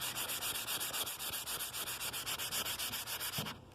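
Oak wood is sanded by hand in quick, steady back-and-forth strokes, a close, continuous rhythmic scratching that stops abruptly at the end.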